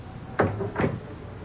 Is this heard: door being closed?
yes